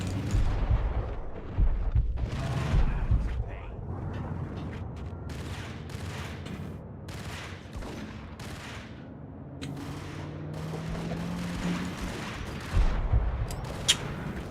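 Rapid bursts of gunfire from the PC game Max Payne, with repeated shots crackling over a dense, continuous layer of game noise and low rumble, loud and steady throughout.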